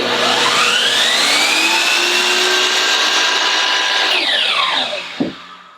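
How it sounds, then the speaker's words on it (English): A chop saw powered by a Bluetti AC180 power station whines loudly and steadily with a rising, then falling, tone as it spins up and winds down, ending in a brief thud. "Never mind, it can run my saw."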